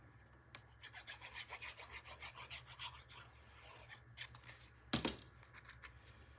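Paper for a 9 x 9 Stamperia Whispering Woods mini album panel is trimmed with quick, faint scraping strokes, quiet and close, ending in a sharper snip or tap near the end.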